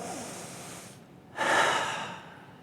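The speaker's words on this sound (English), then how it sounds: "Let's take a moment and take a deep breath together, shall we?" An audience at a talk breathes together on cue: a soft airy rush, a brief hush, then a louder, fuller breath that swells for about a second and slowly fades, with no talking.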